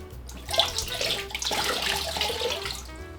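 Hot tap water runs steadily into a sink while a skein of hand-spun yarn is rinsed, a continuous close splashing rush with small shifts in flow and no talking.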